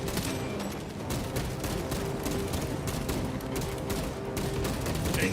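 Sustained rapid gunfire from Space Marine 2, dense overlapping bursts of automatic shots crackling loudly and continuously in a battle scene, with no talk over it.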